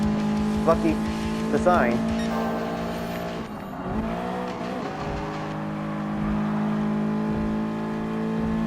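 Pink Toyota 86 race car in Gran Turismo Sport, its steady engine drone rising and falling with revs and brief tire squeals, under a voice talking throughout.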